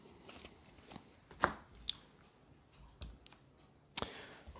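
Sharp riffling snaps of a deck of Aeon's End game cards being shuffled, several quiet separate bursts at irregular intervals, with soft taps and clicks between them.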